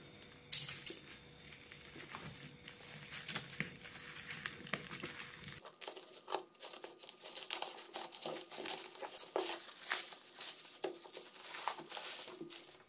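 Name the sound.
unboxing a package of Supreme NYA 2.5 mm cable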